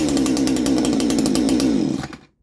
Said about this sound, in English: So the chainsaw spinning.